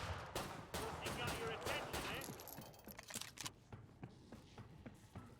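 Rapid bursts of video game gunfire from a game stream, dense sharp shots close up in the first half, then sparser irregular single shots toward the end.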